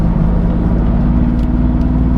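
Mercedes-AMG GT S with a Black Series body kit driving hard, its engine a loud steady low rumble throughout as the rear end flicks out, continuous and close with no talking.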